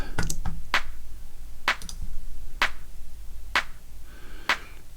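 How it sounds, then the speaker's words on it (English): Electronic clap drum sample played alone, sharp isolated hits repeating at a steady, roughly one-per-second pace over a low sustained hum, crisp and close. "here I will take a look at the key of my clap"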